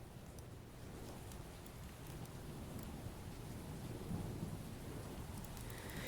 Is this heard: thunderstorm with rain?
yes